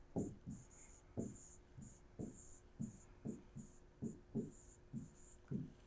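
A letter written by hand, pen or pencil strokes scratching across paper in short, regular bursts about twice a second, close and fairly quiet with no talking.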